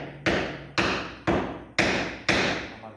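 A hammer strikes a block of granite, the hard igneous rock of quartz, feldspar and mica, five times in a steady, evenly spaced rhythm; each blow lands as a sharp, loud crack that rings briefly and then decays.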